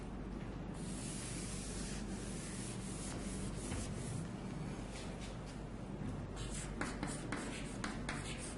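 Eraser rubbing across a classroom board, a steady scratchy swishing with quick back-and-forth strokes growing choppier toward the end, close and moderately loud, no talk.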